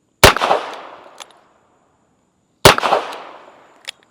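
Two sharp, loud gunshots from a Ruger GP100 .22LR revolver fired at a swinging steel target, about two and a half seconds apart, each with a short decaying echo and a faint metallic ping from the target.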